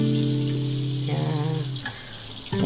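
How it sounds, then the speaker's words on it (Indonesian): Tempeh frying in hot oil for an Indonesian fast-breaking meal, a steady close sizzle with a brief low clatter near the end. "Ini goreng tempenya."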